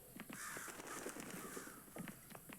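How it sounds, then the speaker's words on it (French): Crows caw repeatedly in the video game Hello Neighbor 2, several harsh calls scattered across the moment at moderate distance over a soft ambient backdrop, quiet overall. "Il y a des corbeaux qui s'en vont de tous les côtés."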